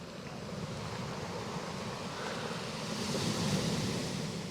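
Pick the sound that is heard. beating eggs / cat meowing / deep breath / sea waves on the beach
sea waves on the beach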